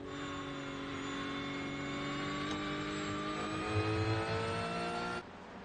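A GT3 race car engine at Watkins Glen, heard from onboard, gives a loud, steady high-pitched howl as it holds revs through a corner, then drops sharply near the end.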